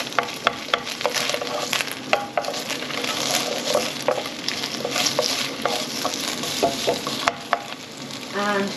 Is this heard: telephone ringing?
no